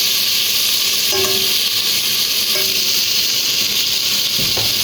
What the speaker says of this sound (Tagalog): Lagyan natin ng toyo.